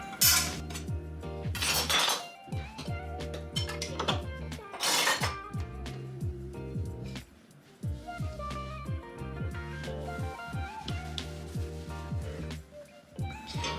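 Kitchen knives washed in a home kitchen sink, giving repeated close metallic clinks, scrapes and clatters of blades knocking together, with steady tonal background music underneath.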